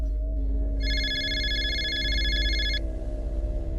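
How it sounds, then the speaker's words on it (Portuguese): A telephone rings once in a single electronic trill lasting about two seconds, over a steady low background drone. "O telefone tocou."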